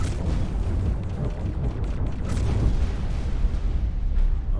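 A Xenon defense platform explodes in a space video game, giving a loud, rumbling blast with repeated crackling bursts and booms that roll on and swell again toward the end, without any talk.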